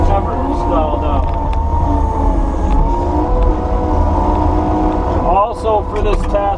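A Kubota SVL90-2 compact track loader engine runs steadily and loudly nearby in low gear, a continuous droning hum with a brief shift in tone near the end.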